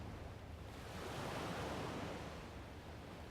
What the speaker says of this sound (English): Certainly helps to have a beautiful sunny day like this, the water in the back, gentle breeze